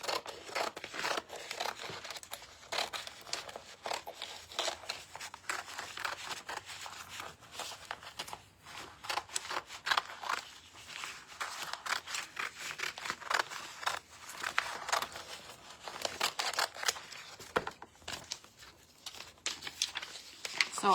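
Scissors snipping around an IOD decor transfer on a frame craft project, a long run of small close crisp cuts and paper crinkles in an irregular rhythm, fairly quiet throughout.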